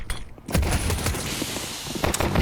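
USP pistol shots crack in a Counter-Strike match, several sharp, close reports in quick irregular succession over a busy background of game noise.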